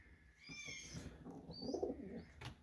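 A pigeon named Missile coos softly indoors in a pigeon room, with a few low, rounded calls close by and no talking.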